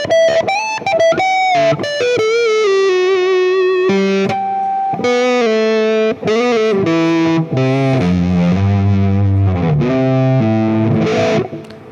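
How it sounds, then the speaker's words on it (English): Electric guitar on the neck pickup with the tone knob rolled off, playing a dense, sustained melodic lead with bends and slides, warm and distorted, loud and close with no talk. "But that neck pickup with the tone off."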